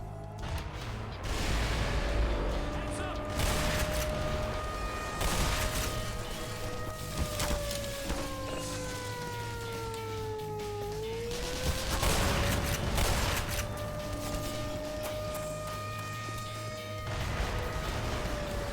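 Dense, loud gunfire and booming shotgun blasts fill a chaotic firefight in the first-person shooter Black Mesa, with tonal game effects sweeping over continuous rattling shots and crashes throughout.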